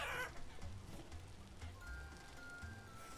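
Chickens clucking in the survival game Vintage Story, a steady low fowl chatter running under game ambience for a few seconds, with no talk.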